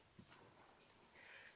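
A puppy named Xander whimpers softly indoors, a few faint high-pitched whines and yips in short bursts with near-silence between them.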